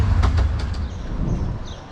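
Miniature railway train rolling along with an open carriage door, a steady low rumble and wind noise with a few rhythmic clacks near the start, continuous and fairly loud throughout.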